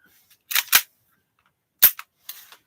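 Airsoft 1911 pistol fired with the grip safety held down: a few sharp, close, dry snaps in quick pairs, separated by short silences.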